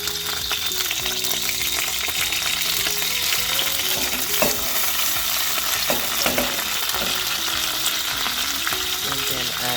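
Curry leaves and red chilies fry in hot oil in a pan for onion chutney, a loud continuous close sizzle and crackle with a few stirring knocks and no talking.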